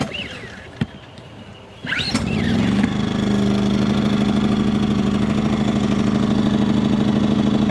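A Harbor Freight Predator 2000 portable generator, set up to power a Jayco camper's air conditioner, starts after a couple of pull clicks and settles into a loud, steady, close running drone.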